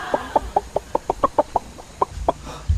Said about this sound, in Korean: 닭도 더워하는 것 같은데.